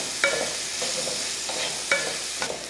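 Elephant foot yam sautéed with salt and masala in a pan, a soft steady sizzle broken by a few sharp scrapes and clinks of the stirring spoon, close and without talk.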